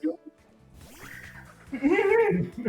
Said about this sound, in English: There's young goose.